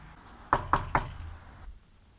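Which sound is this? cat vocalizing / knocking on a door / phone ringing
knocking on a door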